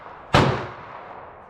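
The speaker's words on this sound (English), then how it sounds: "So now we're going to shoot the Barnes" A single 20 gauge shotgun shot firing a 2 3/4 inch Barnes copper sabot slug, .54 caliber, outdoors: one sharp, loud, broadband blast followed by a fading rumbling tail, with no voices.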